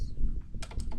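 Computer keyboard typing while code is written in Unity: a few quiet taps, then a quick run of several crisp, close keystrokes near the end, with no talking.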